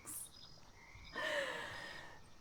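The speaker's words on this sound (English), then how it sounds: "Just an army of frogs up here." Frogs croak in the swampy video game Mudborne, a raspy chorus that swells halfway through and holds steady, with a brief high chirp near the start and soft breathy sounds underneath.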